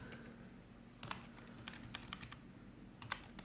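Clicky computer keyboard keys tapped in short irregular bursts during a quantity-surveying calculation, with one firmer keystroke like an Enter press near the end; close and fairly quiet, with no talking.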